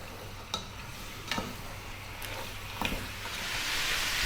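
Lamb bones with salt frying in a pot over slightly above medium heat, a quiet steady sizzle that grows a little louder toward the end, with a few sharp pops and ticks scattered through.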